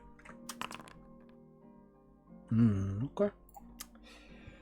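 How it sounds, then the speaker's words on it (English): Dice roll during an online tabletop roleplaying session. Quick, light clicks and clatters cluster near the start, with a few more scattered later, and a voice speaks briefly in the middle. "we can hear your dice rolling"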